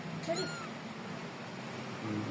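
A kitten being fed gives a couple of faint, brief, high meows early on, heard faintly through background hiss and low room noise.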